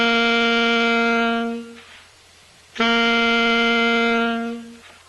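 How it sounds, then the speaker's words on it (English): Two long, clear saxophone tones on the note G, played with the first three left-hand fingers, each held close and loud for about two seconds with a short pause between them. "G is going to be the first three fingers."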